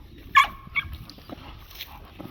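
American Bully and American Pit Bull Terrier dogs give one sharp, loud bark, then a shorter second bark, followed by quieter scattered yips and shuffling.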